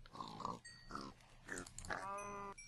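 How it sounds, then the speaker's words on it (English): Pigs in Minecraft give a run of short nasal grunts and oinks, four or five separate calls close by in an uneven rhythm. "feeding the pigs"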